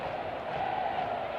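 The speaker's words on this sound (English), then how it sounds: "Phenomenal crowd here" A stadium crowd at a women's professional soccer match between Chicago and Portland, a steady broad roar of many distant voices with a commentator talking over it.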